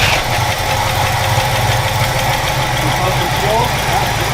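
Old barn-find car engine cranking and running, a steady rough mechanical rumble with a knocking pulse throughout, loud and close, carrying on without pause.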